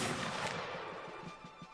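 Artillery cannons firing in a line-battle video game, a dense barrage of booming blasts and crackling gunfire continuing throughout with steady rumbling reports.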